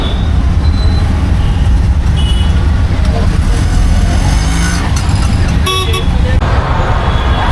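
Dense street traffic in Hyderabad on the way to the Numaish exhibition grounds, a loud continuous roar of engines with several short horn toots near the end, close by.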